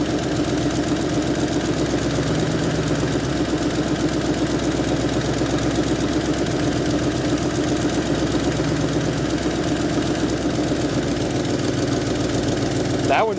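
A rough, steady idle from an old V8 Ford Mustang engine with a dead cylinder, revived after 22 years of sitting; the loud, close drone runs unbroken with an uneven, lumpy pulse, and faint voices talk underneath.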